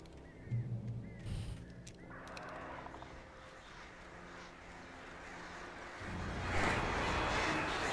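Swarm of birds attacking in Alan Wake Remastered: a dense, rising flurry of flapping and shrill cries that grows louder and thicker toward the end, over game ambience.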